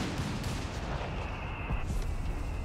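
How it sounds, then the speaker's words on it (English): Mortar firing in the World War II strategy game Company of Heroes 3, dense rumbling booms and blasts of battle blending into a continuous loud barrage with no clear pauses. "Mortar firing away here."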